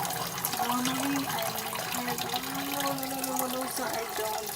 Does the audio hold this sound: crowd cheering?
no